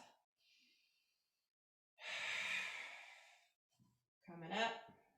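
Deep breaths during a yoga stretch in a strength flow session: a faint inhale, then a long, loud exhale lasting about a second and a half, followed by another short breath, with quiet gaps between.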